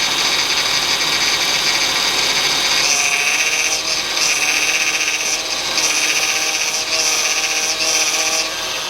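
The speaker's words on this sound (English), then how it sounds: "Here you can actually nicely hear that power steering whine." Honda Ridgeline power steering whine while the wheel is turned, a loud, steady high whine over engine drone that swells and dips repeatedly as the steering moves, with no talking.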